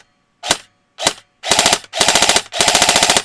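An airsoft gun powered by a 7 volt LiPo battery fires two sharp single shots, then three short rapid bursts, each a crisp buzzing clatter close to the mic.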